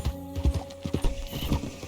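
Rapid rhythmic clip-clop of a horse's hooves at a brisk ride in the game Red Dead Redemption 2, close and distinct over a faint low background hum, with no talking.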